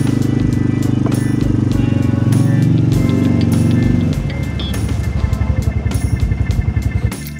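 An all-terrain vehicle quad engine runs loud and close at a steady drone, then shifts into gear and pulls away, its note dropping into a rough, pulsing throb as it drives off.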